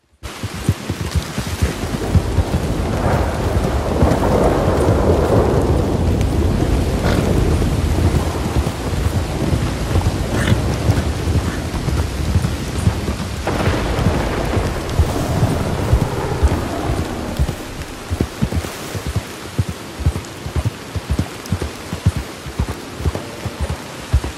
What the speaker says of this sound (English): A stormy day heading to Moonstone Pond.